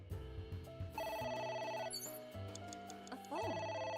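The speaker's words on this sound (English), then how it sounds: "A phone. Should I pick it up?" Telephone ringing in the video game AI: The Somnium Files, a steady electronic ring with repeating tonal bursts over game music, loud and close throughout.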